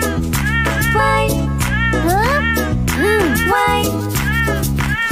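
A cartoon cat meows in a nursery-rhyme song about a family's cat named Lucky, its high, sliding calls woven through a bouncy, steady musical backing with a sung voice.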